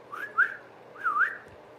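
A narrator imitates a neighbor calling a dog with a whistle: two short, clear, rising-and-falling whistled phrases, close and distinct, with a pause between them and no talking.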